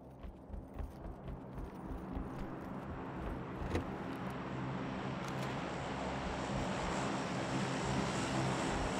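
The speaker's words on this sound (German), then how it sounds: "Flugzeug direkt über uns kommen." Propeller airplane passing directly overhead in a snowstorm setting within a video game, a steady, loud engine drone that swells and holds across the whole stretch with no talk over it.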